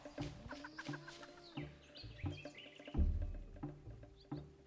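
Video game duck from Caveman2Cosmos giving a series of short, nasal quacking calls in quick succession, moderately close over a quiet, tonal game backdrop.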